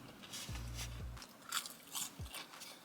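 Crisp bites into freshly cooked chips, a few close crunches followed by quiet chewing, faint and unaccompanied by talk.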